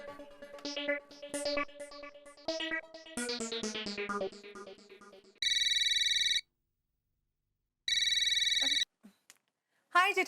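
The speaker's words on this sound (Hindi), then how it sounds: "अरे बबीता जी, आपको कैसे पता चला मैंने फोन किया है?" A telephone ringback tone on an outgoing call sounds in two loud, steady electronic bursts about a second each with a pause between, following a short melodic music sting.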